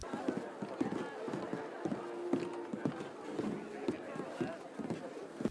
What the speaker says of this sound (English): so much of the game is just riding your horse to a mission